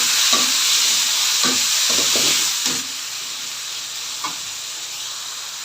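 Onion, garlic, ginger and tomato sautéing in hot oil for a mussel soup, a steady loud sizzle broken by several short stirring scrapes, the hiss softening a little halfway through.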